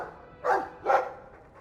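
A Mabari war dog in the video game Dragon Age II gives two short, close barks about half a second apart over quiet game ambience.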